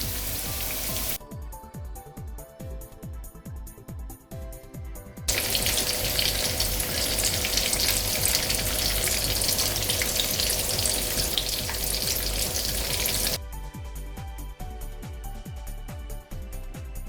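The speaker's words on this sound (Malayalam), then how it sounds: "ഒരു മീഡിയം ഫ്ലെയിമിലിട്ടിട്ട് നമുക്കിതൊന്ന് ഫ്രൈ ചെയ്തെടുക്കണം." Chicken fries in oil over a medium flame with a steady, dense sizzle throughout, which swells louder and fuller in the middle stretch before easing back, and no voices break in.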